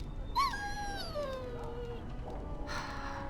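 A dog in Dragon Age Origins lets out a high, falling whimper that slides down in pitch over a couple of seconds, alone against a low game-ambience hum.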